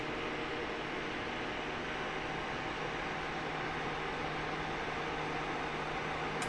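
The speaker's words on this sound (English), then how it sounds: "If you hear a humming on the sound, that's my fan trying to keep me cool" An electric fan in a room gives a steady, faint, even hum with airy hiss that holds unchanged from start to finish, alone with no voices.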